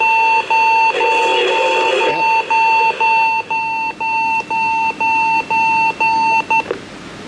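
A Magnavox D-3150 two-band clock radio's alarm goes off with loud, steady repeating beeps in an even rhythm for several seconds, with faint radio sound mixed in underneath.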